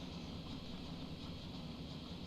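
Train running in the game Transport Fever 2, a steady low rumble of rolling wagons with broadband hiss, continuous and even in level, no talk.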